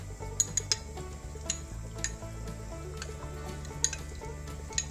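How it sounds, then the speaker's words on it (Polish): Sorrel soup with tempered sour cream being stirred in a pot, a spoon clinking steadily against the sides with a few sharp metallic taps over a low simmering background. "Mieszam."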